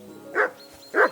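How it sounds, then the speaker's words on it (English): A dog in the medieval video game Kingdom Come Deliverance 2 barks twice, two loud, gruff woofs about half a second apart, close and clear with no talking over them. "that barking's driving me nuts"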